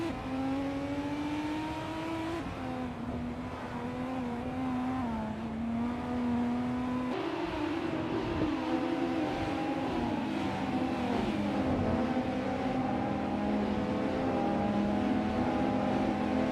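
Race cars engines in a video game race, including a 2019 IPS Kuruma, droning steadily with shifting revs throughout, a continuous layered motor whine with no talk.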